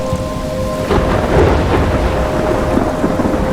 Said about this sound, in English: Irmão, tá caindo um toró aqui no jogo.